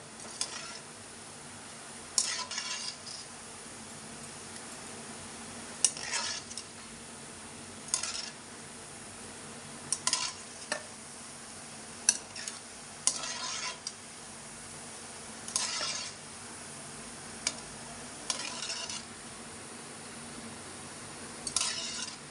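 Gulab jamun balls frying in hot oil in a pan, stirred steadily for a long stretch, with a continuous sizzle and periodic scraping strokes of the utensil against the pan, close and moderately loud.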